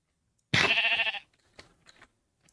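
A single loud, close sheep bleat from Minecraft, in the Vault Hunters modpack, lasting about a second, followed by faint soft game clicks and shuffles.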